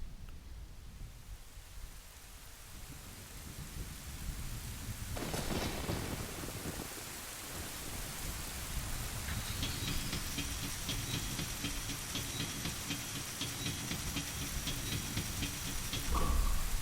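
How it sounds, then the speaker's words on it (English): Steady heavy rain with rumbling thunder sweeps through a stormy scene in the video game Ocarina of Time, a broad hiss throughout, a sharp crack of thunder around the middle, then sustained rain with a bright tonal layer near the end. "this storm really rolled in out of nowhere"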